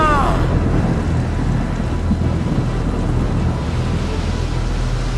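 A storm at sea heard up close as a loud, steady roar of wind and rain, with a low rumble of thunder running throughout.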